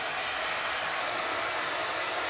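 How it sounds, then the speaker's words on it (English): A hair dryer set on high and resting on the floor, powered through a 1000-watt pure sine wave inverter, gives off a steady, even airy whoosh that holds level from start to end with no voices. "So I've got this hair dryer."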